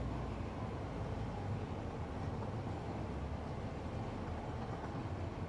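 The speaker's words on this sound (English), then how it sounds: "Let's go ahead and take this train and move it out." A train pulling out in the factory-building game Satisfactory, a steady low rumbling roll of wheels and cars, loud and continuous with no voices.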